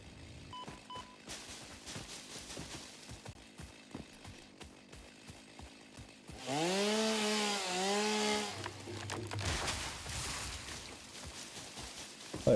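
A chainsaw in Satisfactory cuts trees, a rising buzzing whine that swells loud in the middle beneath a rhythmic mechanical clatter and then fades away.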